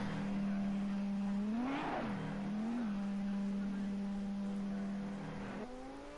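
A GT3 race car in a sim racing game leaves the pits at Fuji with a steady engine drone that surges briefly as revs rise and fall, heard over a constant background hum.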